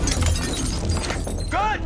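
Glass is cut and smashed during a rescue in which firefighters free a trapped man, heard as a short burst of shattering with a bright ringing crack near the end, set against dense background noise.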